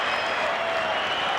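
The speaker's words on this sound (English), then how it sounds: "First try to country, and the crowd love it." A crowd at a 1986 City versus Country rugby league match roars and applauds after a try, a dense, continuous wash of cheering and clapping at steady volume.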